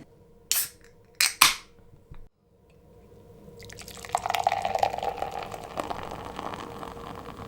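A beer being cracked open, two or three sharp pops and snaps of the cap up close, then a short pause and a long fizzing pour of foaming liquid.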